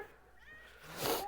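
A pet cat lets out one short, clear meow near the end, rising over quiet room tone, somewhat behind the person lecturing on prime numbers.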